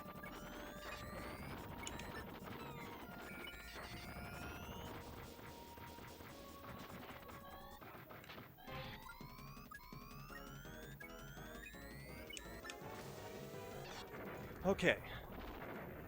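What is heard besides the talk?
stockpiled bombs exploding in video game Metal Combat: Falcon's Revenge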